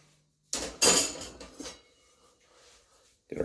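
Metal cooking racks being shifted aside, giving a burst of close clattering clanks that fade into quiet before a final thump.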